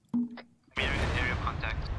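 A brief mechanical click, then a sudden loud burst of sustained gunfire in the military video game Arma 3, continuing densely to the end with some voice-like tones mixed in.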